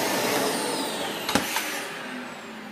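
A household vacuum cleaner, one of a Dyson Cinetic, Miele Twist, Dyson DC25 or Hoover Windtunnel, runs at a steady loud whine and rush throughout, with a brief clunk or bump partway through.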